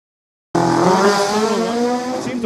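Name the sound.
drag race car launching at Liqui Moly Drag Wars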